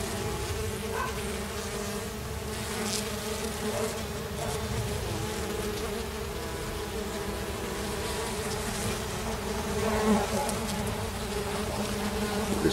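Mandaçaia stingless bees buzz steadily in a dense, continuous drone at a meliponary, many insects close by with a slight swell near the end and no talking.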